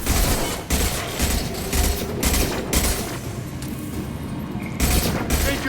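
Grenade blast in the shooter Mass Effect 2, rolling booms among a loud stretch of rapid gunfire and combat noise, several sharp bursts close together.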